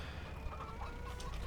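Chickens in a converted greenhouse coop in a farming game, soft clucking and low fowl murmurs, fairly faint and brief with no talk.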